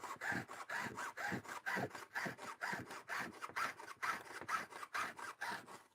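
A hand saw cutting through aluminum in steady back-and-forth strokes, a rhythmic rasping scrape of about two strokes per second, close and loud with no talking.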